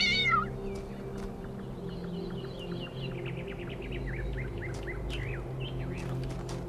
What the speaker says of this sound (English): There's only one cat that likes me.